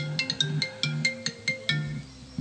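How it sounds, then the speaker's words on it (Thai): A phone rings with an incoming call during a temple FM radio broadcast, its ringtone a looping melodic pattern of bright, evenly spaced chirping notes over a steady low tone, clear and unaccompanied by talk. "มีสายเข้ามาเนาะ"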